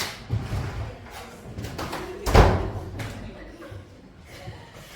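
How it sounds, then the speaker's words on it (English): A door closes indoors with one solid thud in the middle, while a person talks around it. "I just close the door."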